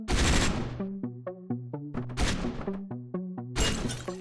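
Gunfire from a weapon in the top-down action game Hotline Miami 2, three loud bursts of rapid shots separated by short stretches of punchy synth music, with no voices.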